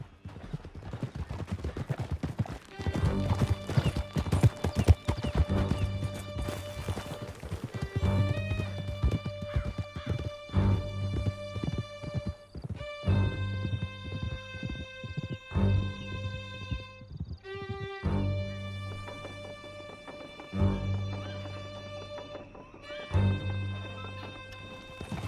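Horses gallop in Red Dead Redemption 2, their hoofbeats drumming steadily beneath a loud, sustained orchestral score for the whole stretch, with a brief whinny now and then and no talk over it.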